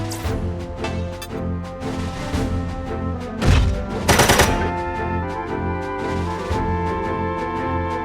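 Gunfire in the mech combat game Front Mission 4, a burst of loud shots and crashes standing out midway over steady game music, with no talk.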